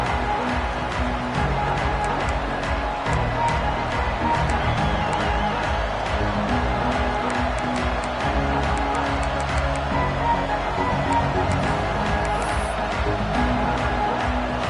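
Football stadium crowd at an Oregon at UNC college game, a steady, dense roar of many voices and cheering that fills the whole stretch at even loudness, with broadcast commentary around it.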